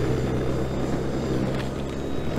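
A camera drone flying overhead in cold, snowy weather, giving a continuous buzzing propeller whine over a low hum that holds fairly loud and steady, with no talking.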